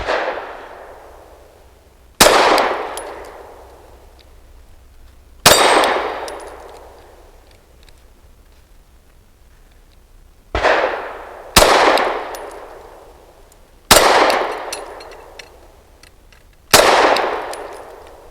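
Shots from a KOR FX-9 striking a swinging steel target: six loud, sharp metallic clangs, irregularly spaced, each ringing out in a long fading decay.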